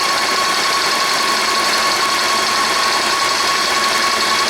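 An airless paint sprayer pump runs steadily, pushing thinned oil-based paint through the line during cleanup, a loud continuous mechanical drone with a constant tone and no pauses or voices.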